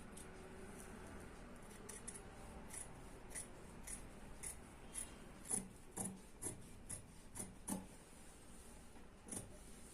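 Scissors cut through kurti fabric around the arm round, a faint series of soft regular snips that grows slightly louder midway, over low room noise and with no talking.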